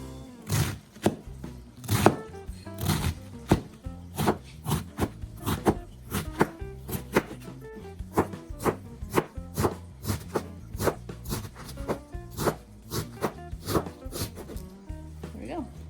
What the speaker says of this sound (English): We're gonna lay it down like this and just chop it off.